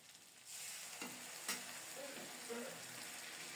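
Boiling hot water poured into a fish curry frying in a pan brings a sudden hiss and steady sizzling bubble, with a faint clink, at modest volume.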